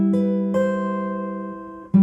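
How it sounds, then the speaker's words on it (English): A guitar chord in a second inversion shape with its bass note on the A string, struck and left ringing, then struck again about half a second later and sustained. It is clear and close, with a third attack near the end. "Our second inversion here is quite a stretch when you put the bass note on the A string."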